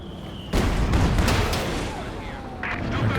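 Katyusha rocket artillery salvo firing in the video game Company of Heroes 2, a dense, loud rush of launches and booming blasts sustained across the stretch, with a brief voice mixed into the clamor.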